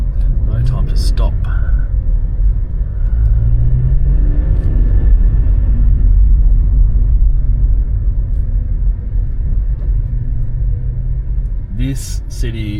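A car driving through the town of Berwick-upon-Tweed gives a steady, loud low engine and road rumble from inside the cabin that continues throughout, with faint voices at the start and end.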